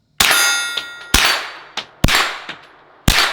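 Shots from a KelTec Sub 2000 Gen 3 carbine strike steel targets, giving four loud metallic clangs spaced about a second apart, each with a short ringing tail and a fainter ping after some.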